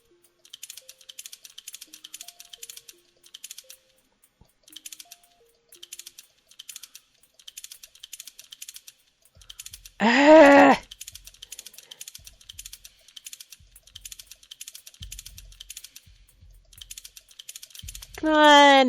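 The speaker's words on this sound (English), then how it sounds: "Clicking randomly always works for me." Rapid mouse and keyboard clicking during a video game, in quick bursts of sharp clicks with short gaps, broken twice by a brief speaking voice.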